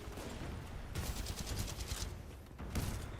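A shotgun in the shooter game Titanfall 2 fires a few quick, sharp blasts that sound faint and distant, with short pauses between the bursts.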